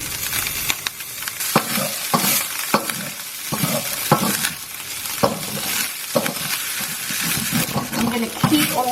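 Minced meat fries in oil in a wok with charred bits at the sides, a busy sizzle broken by sharp scraping clacks of stirring and a few light clinks, fairly close and loud, with no talk.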